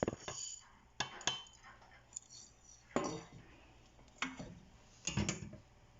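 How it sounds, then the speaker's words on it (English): Toasted white sesame seeds tipped from a pan onto a plate, heard as a handful of separate sharp clinks and scrapes of metal on dish, spaced about a second apart, with quiet gaps and no talking. "So we need to transfer them into a plate."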